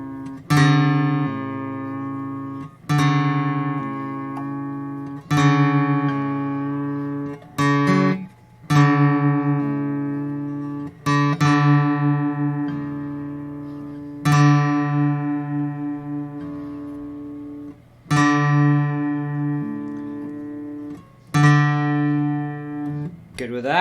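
Guitar strings plucked together at the 5th fret while tuning by ear, each pair ringing out and decaying with an audible beating waver, repeated about eight times, close and clear with no talk over it.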